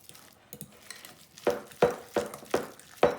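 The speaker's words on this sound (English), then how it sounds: "I'm gonna take my fork and just mix all of this together with the cream cheese" A fork mixing ingredients into cream cheese for a cucumber spread, a series of sharp scraping and tapping strokes in a bowl, coming in a fairly regular rhythm and growing louder, no talking.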